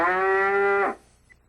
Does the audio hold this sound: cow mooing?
yes